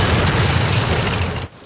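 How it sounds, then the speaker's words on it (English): An abandoned church being blown up as a practical special effect: a loud, sustained roaring blast that cuts off abruptly after about a second and a half, leaving only a faint residual hiss. "they blew up an abandoned church"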